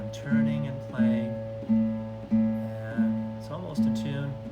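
A guitar's open A string is plucked repeatedly while being tuned, six evenly spaced ringing notes that each fade before the next.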